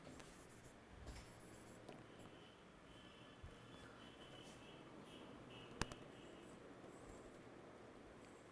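Handwriting during a Class 11 biology lesson on the cell: faint, steady scratching and rubbing of a pen on a surface, quiet and continuous with a few small taps.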